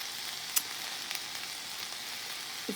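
Ground turkey browning in a pan for turkey chili, a steady broadband sizzle running throughout with a couple of brief clinks or stirs, close and moderately loud, no talking.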